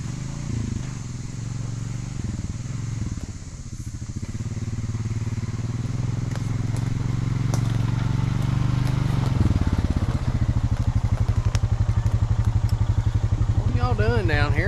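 A four-wheeler ATV engine revs and drones steadily while climbing a mountain trail in Tennessee, loud and close throughout, with a rapid throbbing pulse growing stronger toward the end.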